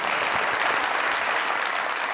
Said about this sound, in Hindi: क्या आपके लिए बहुत बहुत ताली